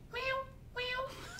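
A man imitates a cat's meow with his voice, giving two drawn-out, nasal meows in quick succession, close and fairly loud, followed by a brief trailing vocal sound.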